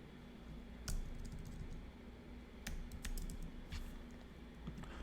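Soft keystrokes tapping on a computer keyboard, a few quick clusters of clicks spread over several seconds against a low steady background hum, fairly quiet and without voices.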